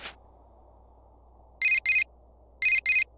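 Cell phone new-message alert in the video game Persona 4 Golden: two pairs of bright, short electronic chimes over a quiet background hum.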